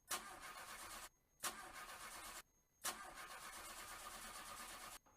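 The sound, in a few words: car engine starting in a radio advert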